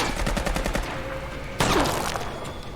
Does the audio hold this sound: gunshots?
yes